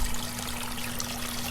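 Water flows at an even rate through an aquaponics system, making a continuous close trickling wash over a faint steady hum, with no pauses.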